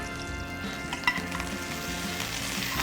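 Curry leaves crackle and sizzle in a little hot oil in a new pan, a dense steady frying hiss lasting throughout with one brief louder pop, no talking.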